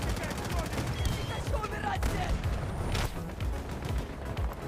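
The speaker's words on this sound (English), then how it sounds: "Oh, it's a machine gun." Rapid machine gun fire rattles in a video game battle, steady bursts of shots mixed with distant booms, while a person talks over the din.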